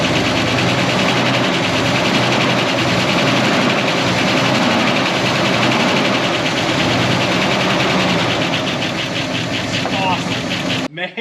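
A 1969 Buick Wildcat, pulled from a barn after 26 years, runs on its carburetor with a loud, steady, rumbling idle that fills the whole stretch, with a voice talking over it before it cuts off abruptly at the end.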